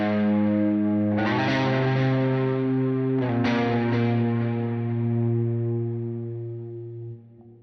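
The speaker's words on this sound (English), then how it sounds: "I'm kind of like really punching the low E string when doing this" Distorted electric guitar with chorus and gain stages picks single notes, hitting the low E string hard; two sharp attacks ring out and sustain loudly, then fade near the end.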